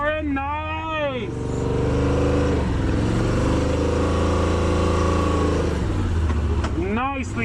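A Yamaha RMAX4 1000 side-by-side, diff locked, crawls in crawl mode on off-road ground, its engine droning steadily and rising slightly in pitch, with someone talking before and after.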